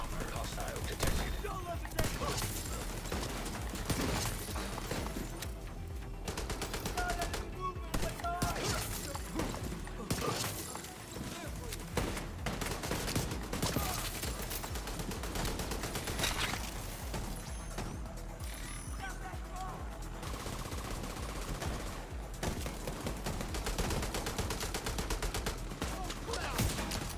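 Sustained automatic weapon fire with crashing impacts in The Division 2, loud and nearly unbroken, with brief lulls between bursts and faint talk mixed underneath.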